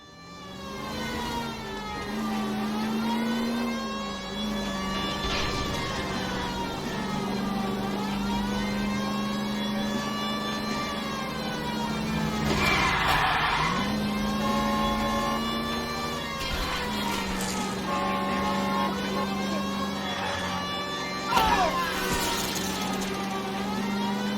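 Car engine in an L.A. Noire chase, a steady droning whine that rises and falls with revving and shifting through gears, loud and close, with brief bursts of harsher noise that could be tire squeal.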